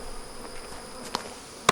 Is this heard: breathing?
no